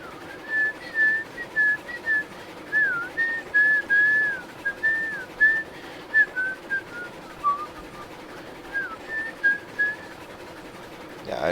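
Someone whistles a tune, holding clear wavering notes in short phrases with brief gaps between them, fairly close over a faint background hum.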